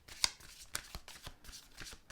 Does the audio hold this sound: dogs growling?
no